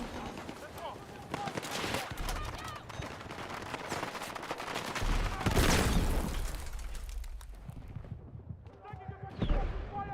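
Rapid gunfire and heavy booms sound in the video game Battlefield, with machine-gun bursts, sharp shots and louder explosions near the middle and end; a voice talks over parts of the action.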